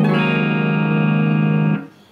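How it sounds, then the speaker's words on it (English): Electric guitar tuned down a half step to E flat rings out one long, steady sustained chord for nearly two seconds, then is muted and fades to quiet. "tune the guitar down a half step to E flat"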